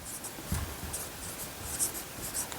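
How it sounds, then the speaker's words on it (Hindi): A hand writes out a geometry solution, producing soft, close scratching strokes in short bursts with small gaps, and no one speaks. "यहाँ पर लिख देते हैं"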